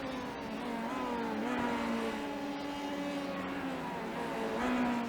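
Formula 3 race cars in the iRacing simulator at Circuit de Barcelona-Catalunya scream along under acceleration, engine pitch climbing and shifting through gears in a steady, loud drone, with no voices.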